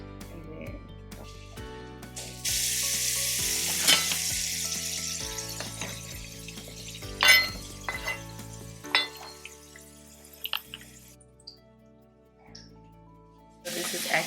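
Potatoes frying in a pan at home, a steady broadband sizzle with occasional louder crackles and clatter, close and fairly loud, with no speech over it.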